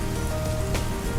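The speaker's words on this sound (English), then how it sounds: "The first showers of the southwest monsoon." Steady hiss of southwest monsoon rain showers falling on a surface in the Western Ghats, a dense, even wash of drops without pause.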